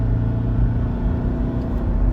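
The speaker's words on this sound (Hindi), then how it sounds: "ये आपने पूरा पंजा दबाया हुआ है। पूरा पंजा 4500 आरपीएम।" A 2015 Toyota Innova diesel engine held at full throttle near 4500 rpm gives a steady, loud, droning rumble with no voices.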